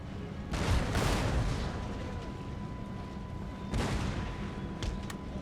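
Troops firing in Total War: Empire, heard as distant booming volleys and musket-like bursts over low battlefield rumble, a heavy burst near the start and another around the middle, fairly faint overall.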